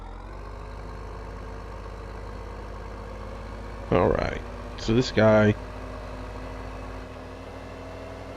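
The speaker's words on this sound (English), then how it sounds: "decent little tractor" Tractor engine idling in Farming Simulator 2015, a low steady drone running evenly throughout, with a voice talking over it in brief bursts near the middle.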